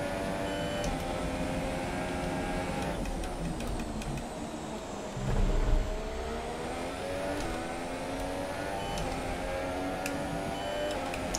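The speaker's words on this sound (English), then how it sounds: "Okay, time to turn up the engine." A Formula 1 race car engine howls in F1 2017 at the Bahrain Grand Prix, a steady high-pitched drone with rising and falling gear pitch and a brief dip near the middle, loud and continuous.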